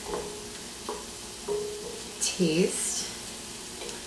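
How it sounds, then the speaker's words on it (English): Garlic sautéing in a pot as the base for sausage tortellini soup, a low steady sizzle with scattered light stirring taps and clinks, heard close, with a brief spoken word partway through. "let that kind of stir, kind of saute that for a minute or 2, just to cook off that raw garlic"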